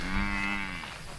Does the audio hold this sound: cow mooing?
yes